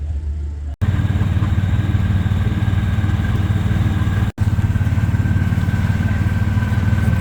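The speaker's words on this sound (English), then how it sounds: "And we are riding in style this year. We got our own golf cart." Golf cart engine droning steadily while riding through the Husker Harvest Days farm show grounds in Nebraska, a continuous loud low hum with two brief cutouts.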